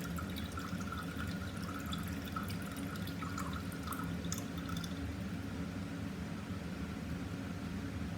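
Liquid drains from the tap of a separating funnel as two immiscible layers are parted, a soft continuous dribble with scattered small drips over a steady background hiss, close and fairly quiet throughout.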